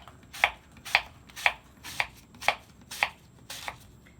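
Paring knife slicing through an apple on a cutting board, eight crisp evenly spaced cuts about half a second apart, close and clear against a quiet background.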